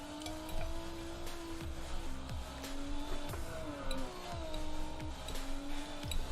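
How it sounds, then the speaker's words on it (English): In-game car engine droning and shifting pitch while driving in a video game trailer, with repeated whooshing passes and tire noise over a steady bed of game music. "Ist das hier jetzt ein echtes Auto oder ist es Ingame-Auto?"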